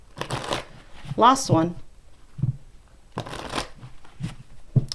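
Tarot cards are shuffled by hand in several quick riffling bursts, close and crisp, alternating with a person speaking briefly in between.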